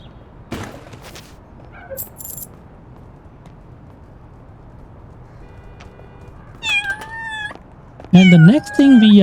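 A cat in the video game Little Kitty Big City gives a few short meows near the end, alongside scattered game effects and ambient background sound.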